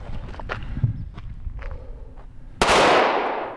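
A handgun fires during a shooting drill: a single loud, sharp report near the end rings out with a long decaying tail, preceded by light shuffling and footstep-like movement.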